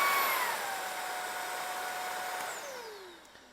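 A Shark Rocket stick vacuum cleaner runs on max power with a steady whining motor hum. The pitch sags slightly, then the motor winds down near the end.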